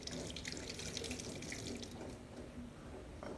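Tap water runs steadily into a sink while garlic and shallots are washed by hand, a close continuous splashing with small drips and no talking.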